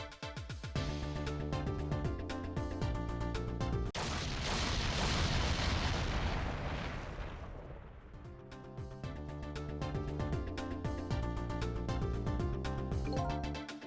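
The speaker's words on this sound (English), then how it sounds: "I think I heard an explosion somewhere" An explosion in the video game Ghost Trick: Phantom Detective bursts over the game's music, a loud rumbling blast that swells and slowly fades before the melody returns.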